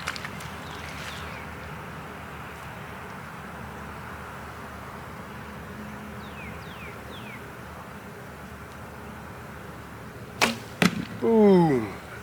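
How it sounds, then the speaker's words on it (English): A broadhead-tipped wood arrow loosed from a Treadway longbow, heard as a sharp snap and brief whoosh near the end, followed by an impact thump, after a long stretch of quiet outdoor ambience with faint birdsong. "That broadhead flies good."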